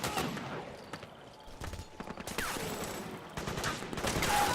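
Sustained gunfire in the video game Metal Gear Solid 4: Guns of the Patriots, a dense stream of overlapping shots and bursts that grows louder and busier toward the end.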